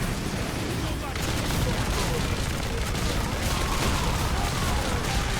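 Sustained turret gunfire in Warhammer 40K: Space Marine, a dense continuous roar of rapid shots that fills the whole stretch at loud, steady level with no clear pauses.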